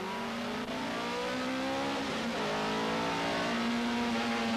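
A Ford Sierra race car at a 1989 club meeting in Phoenix Park, Dublin, its engine holding a steady high drone with a slight pitch rise, close and loud, with no talking over it.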